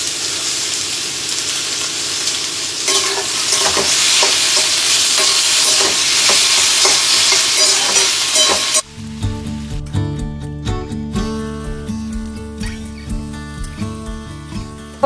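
Egg bhurji with spring onions sizzling in a pan while being stirred, a loud steady fry with repeated scraping strokes that turns into quieter, choppier stirring clatter partway through.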